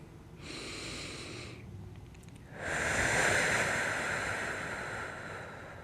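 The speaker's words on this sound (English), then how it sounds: "Deep breath." Slow, deep breaths during a core yoga exercise, a soft drawn-out inhale followed by a longer, stronger airy exhale, close and fairly quiet.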